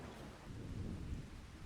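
Rain patters steadily while low thunder rumbles underneath in Farming Simulator 25, set in Ladyhill, Ireland, a dense, moderately quiet storm wash with no talking.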